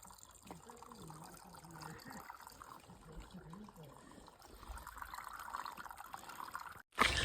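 Spring water trickles and splashes steadily at a trail water source, faint and close, with a person talking quietly over the flow and a brief louder knock at the end.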